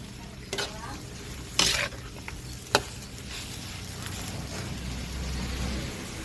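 Squid adobo with green chili and chili leaves simmering in a pan, a soft steady bubbling sizzle with a few sharp clicks and clatters of a utensil against the pan.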